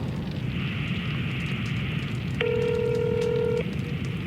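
A telephone being dialed gives out one steady, clear tone lasting about a second, heard against constant loud rushing background noise.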